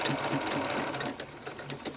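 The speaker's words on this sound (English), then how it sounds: "I'm going to hit the back stitch button at the beginning of my sewing so that my stitches will be secure." Close up, a sewing machine stitches a seam on a shirtwaist dress, with back stitching at the start. It makes a quick, rhythmic mechanical chatter that runs steadily for two seconds.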